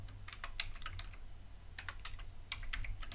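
Typing on a computer keyboard as a single-line Java comment is entered, with bursts of quick keystrokes split by short pauses, faint and close against a low hum, with no one speaking.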